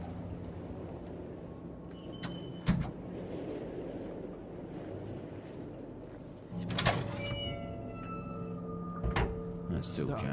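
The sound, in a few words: squeaky doors closing in Conarium video game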